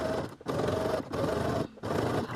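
Sewing machine stitching bias binding onto a Vogue 8577 bodice, three sustained runs of rapid whirring stitches separated by brief pauses, close and clear with no talk.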